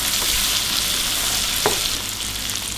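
Blended dried chili, garlic and kencur paste fries in hot oil with a loud, steady hiss and crackle and a single brief clink partway through.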